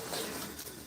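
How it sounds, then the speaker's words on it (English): A pigeon gives one short, close, soft cooing call. "You goofy bird."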